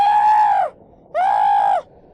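A man screams in pain after being shot, two loud, sustained wailing cries close by, each about half a second to three-quarters long with a short gap between, heard alone without talk.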